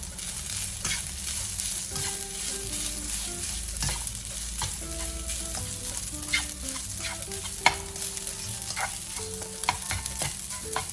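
Leftover cold rice with a little salt is stirred and fried in a pan, giving a steady soft sizzle broken by frequent scraping and clinking strokes of the spatula, close and fairly quiet, with no talking.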